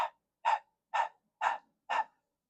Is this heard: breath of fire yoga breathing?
yes